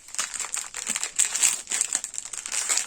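Plastic sachets in a connected strip crinkle continuously as they are handled close by, with steady bright rustling and small crackles throughout, no speech over it.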